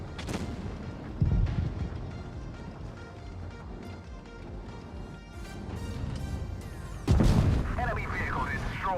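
Tank cannon fire in a combat video game as a VZ.55 autoloader tank destroys an enemy vehicle: two heavy booming blasts about six seconds apart over continuous battle noise and game voice lines.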